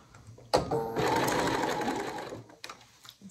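A sewing machine stitches flange binding in a short burst of quick mechanical chatter after a sharp click, then stops, followed by light handling noises.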